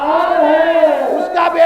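A crowd at a Milad un Nabi gathering in Bahadurpura chants a religious slogan in unison, a sustained, loud collective shout of many voices that dips briefly and swells again.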